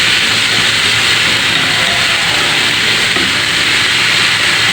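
Onions sautéing lightly in a pan for tuna bread filling, a loud continuous sizzle and hiss that holds steady the whole time, close and with no talking.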